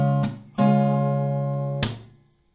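Low G bass notes ring out on an acoustic guitar from the third fret of the low E string, two plucks sustaining in turn, then a sharp hand clap, close and unaccompanied.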